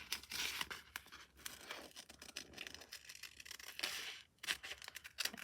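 Scissors snip and cut around a piece of paper-backed fusible material for an appliqué stitchery project, giving a run of close, crisp crinkly cutting and rustling sounds with short pauses, no talking.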